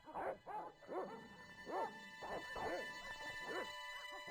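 Dogs in the Broken Sword video game barking, a series of about eight sharp yelping barks spaced irregularly over a few seconds, faint and somewhat distant with a low background hum, no talk.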